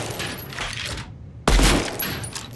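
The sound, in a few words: gunshots in the video game Deadrop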